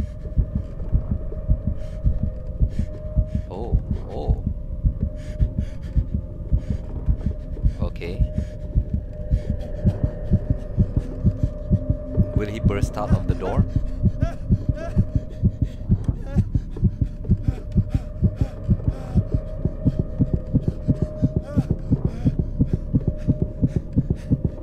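A throbbing heartbeat pulses steadily through the Call of Cthulhu video game, quickening over a low hum as the pressure builds; a player speaks briefly above it.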